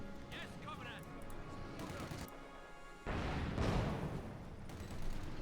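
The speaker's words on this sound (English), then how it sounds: "second field gun out there for Tiramisu" A Soviet 76mm divisional field gun fires in Company of Heroes 2. A heavy booming blast lands about midway, rising out of steady battle noise with a voice talking underneath.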